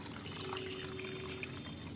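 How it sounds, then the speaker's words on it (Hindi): Water is poured into a homemade liquid fertilizer mixture meant for a night-blooming jasmine plant, giving a steady, soft pouring and trickling sound that holds through the whole moment without any talk. "देखिए 1 लीटर पानी है, इसमें डाल देंगे।"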